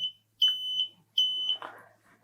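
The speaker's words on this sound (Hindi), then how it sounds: "इसलिए एलईडी भी ऑन है और बजर भी हमारा ऑन हो रहा है" A piezo buzzer driven by an IR sensor circuit sounds in two shrill high-pitched beeps, each under half a second, close and clear, followed by faint handling noise.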